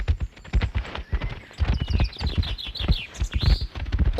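Hooves clop in a dense, rapid, overlapping rhythm as a herd of buffalo walks past, loud and close, with a few bird chirps above.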